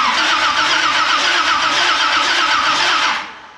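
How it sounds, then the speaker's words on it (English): Close and loud, the starter spins over a built Pontiac 455 V8 fitted in a Firebird, a continuous pulsing crank lasting about three seconds before fading off, with no voices over it. "Starter sounds pretty good."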